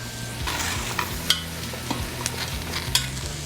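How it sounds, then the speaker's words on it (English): Vegetables and almonds are stirred in a hot pan, with soft sizzling beneath a run of scraping, clattering stirs and a few sharper knocks of the utensil. "Just going to stir all of the vegetables around."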